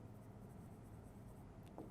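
Faint, soft scratching of writing numbers on a classroom board during a chemistry lesson, a brief continuous rasp under low background hiss, with no talk.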